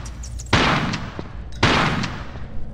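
Two loud shotgun blasts in the video game Tomb Raider 4, fired about a second apart while shooting bats, each a sharp close boom with a short decaying tail.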